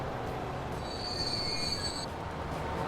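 A train in the Transport Fever simulation game rolls along under a steady rumbling drone, with a thin high wheel squeal rising briefly in the middle and no talk.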